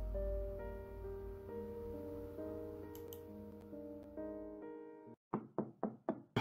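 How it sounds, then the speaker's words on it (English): Knocking on a door in a visual novel game: after a sustained musical passage cuts out, a quick run of about five crisp, close knocks follows in a steady rhythm. "someone is knocking on the door again"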